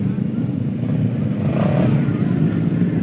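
A motorcycle engine runs and revs steadily at a crowded outdoor tape-ball cricket tournament in Karachi, a continuous loud drone with a slight swell midway, with crowd voices mixed underneath.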